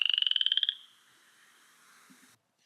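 A frog croaks as a rapid, pulsing trill of about a dozen close, loud, evenly spaced pulses that stop abruptly and leave a faint hiss, then silence.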